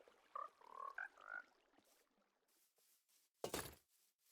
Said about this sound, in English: appreciate the nice sounds of the frogs